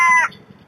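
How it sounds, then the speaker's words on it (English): A crow caws once, loud and close, with a harsh tonal call that cuts off quickly, picked up by an outdoor wildlife camera. "the first visitor being a crow"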